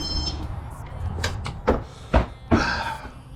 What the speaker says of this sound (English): Gotta open up the door.